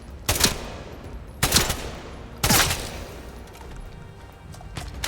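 Bursts of automatic gunfire from the video game Atomfall come in three loud rapid volleys about a second apart, then fade into quieter background noise.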